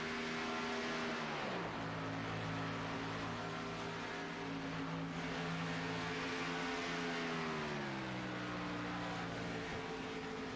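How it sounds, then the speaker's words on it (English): Several race cars in a racing video game roll down pit road at Homestead, a steady layered engine drone with shifting pitch as cars pass and slow, continuous and fairly loud with no talking. "Several more cars coming down pit road."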